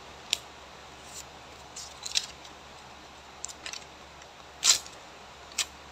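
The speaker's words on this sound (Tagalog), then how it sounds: "Ginahati na ako kay gatipid po kog papel no." Scissors snip through paper in a few sharp, separate cuts scattered across a quiet room, the loudest one near the end, with soft handling noises in between and a low steady hum underneath.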